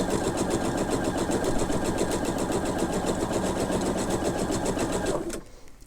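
A sewing machine runs steadily at a fast, even stitching rhythm while joining 60-degree quilt triangles with a quarter-inch seam, humming close and continuous before stopping abruptly near the end.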